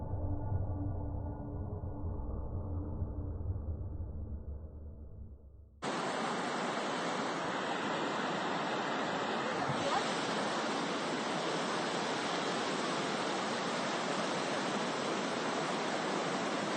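Ocean waves on the Bodmin Moor coast at night, heard from a small alcove a stone's throw from the water: a low rumbling wash that gives way to a loud, steady hiss of surf for the rest.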